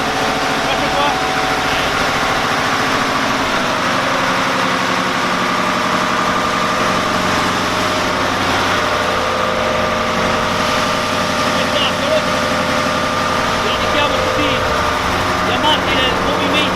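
A Hyster forklift engine running steadily at idle, a loud, close, continuous low mechanical drone with vibration and no breaks, while someone talks over it.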